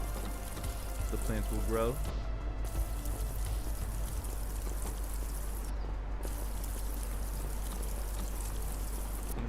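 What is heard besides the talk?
video game plants being watered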